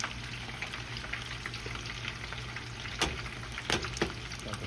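Tempura-battered shrimp frying in hot oil, a dense steady close crackle and bubbling throughout with a few sharper pops near the end, no voices.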